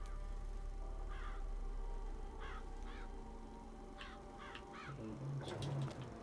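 Crows caw in the video game Bioshock Infinite, a series of harsh rasping calls spread across the clip, fairly distant over a steady ambient hum, with a lower honking call near the end.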